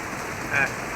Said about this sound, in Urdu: بڑی بارش ہو رہی ہے اللہ معاف کرے جی طوفانی بارش